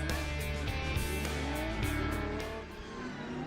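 A big field of saloon race cars at a WA Sporting Car Club championship round, engines roaring and revving loudly as they pass close by, with tire squeal.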